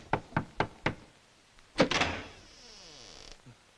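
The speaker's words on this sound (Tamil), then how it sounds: "எவனோ கதவு தட்டுறான், போய் பார்." Four sharp knocks on a door in quick, even succession, then a heavier thud and a longer rattling scrape as the door is handled, fading to a faint knock at the end; no voices.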